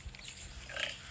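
Farm pigs grunting and snuffling nearby, a brief burst of low rough grunts with a louder squeal-like note near the end, no talk.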